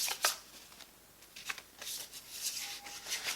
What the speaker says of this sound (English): I'm going to pick some oracle cards